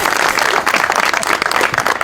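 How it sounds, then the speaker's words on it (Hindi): Dense, steady applause from a large crowd at a public gathering or rally, loud and continuous throughout with no pauses and no voices standing out. "तालियां।"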